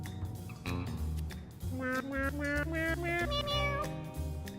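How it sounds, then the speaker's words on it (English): Cats meow repeatedly over a playing song. Sustained tonal cries follow the music's stepping melody for several seconds at steady, moderate loudness. "One of the cats is fucking singing to the song?"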